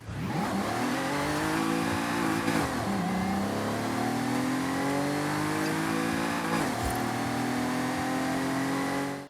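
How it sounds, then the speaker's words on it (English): A Toyota Camry TRD engine in Forza Horizon 5 revs loud and close, rising and falling in sustained pulls with brief dips between, a steady mid-pitched growl with no talking. "let's go ahead and take a listen to that Camry"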